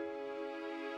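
A single sustained C sharp note from FL Studio, a steady, quiet synthetic tone with rich even harmonics held unchanged for about a second, alone.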